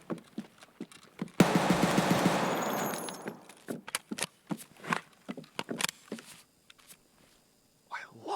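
Scav guns in Escape from Tarkov fire a rapid automatic burst lasting about two seconds, followed by a scattered series of sharp single shots and clacks that fade into quiet.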